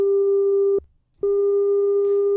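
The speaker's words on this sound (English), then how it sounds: "let's try the self-oscillation first with the fanciest one" Filter self-oscillation on a Monark synthesizer, a loud steady pure tone that drops out for about half a second before returning at the same pitch, with no talking.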